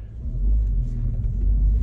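A 2022 Honda Civic hatchback accelerates as it pulls out into traffic, giving a steady, close engine rumble with road noise and no talking.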